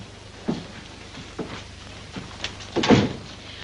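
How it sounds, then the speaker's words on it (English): Door closing in a hospital room, with a few soft thumps and shuffles before a louder closing clunk near the end, close by and with no one talking. "Close the door."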